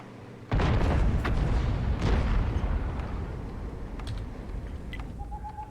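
A single heavy tank gun shot in World of Tanks, a sudden loud boom that cuts in after a quiet moment and leaves a long rumbling decay with scattered clicks trailing off.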